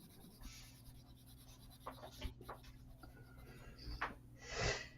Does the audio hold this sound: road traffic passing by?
no